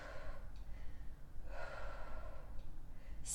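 Steady breathing during a held pose in a yoga sculpt workout, with soft audible inhales and exhales over a low background hum, no talking.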